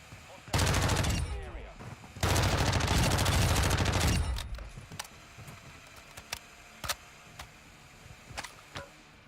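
Bursts of automatic gunfire from a Call of Duty DMZ match, two long loud volleys in the first four seconds followed by scattered single shots, with low talk in the background.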